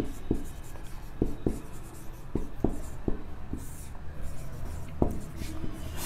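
Pen or chalk writing out a maths definition in a Hindi-language class, with a series of sharp taps and scratchy strokes at irregular intervals, close and clear, with no one talking.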